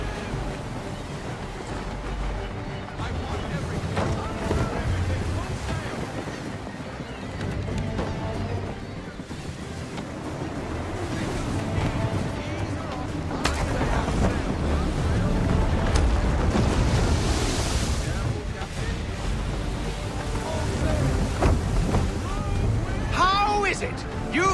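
Rushing wind and sea wash surround a sailing ship at sea in Assassin's Creed 3, a broad continuous roar that swells midway. Voices talk over it at times.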